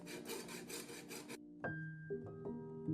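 A hand saw rasps back and forth through a plastic Lego block clamped in a vise, several quick rough strokes, then the sawing stops and a few ringing knocks and clinks of metal follow.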